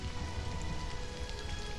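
Rain falling in a video game, a steady, even hiss of drops on surfaces that holds at the same level throughout, with no voices.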